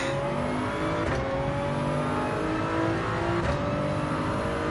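A race car engine in Gran Turismo 7, played in VR, drones at steady high revs throughout, with gliding pitch shifts and brief gear-change dips, loud and continuous with no voices.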